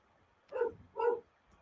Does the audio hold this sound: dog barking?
yes